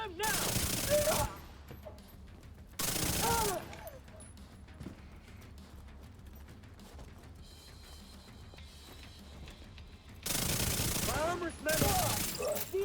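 Video game gunfire erupts in loud sustained automatic bursts, two short volleys close together and a longer one later, with quieter stretches of background game sound and voice between them.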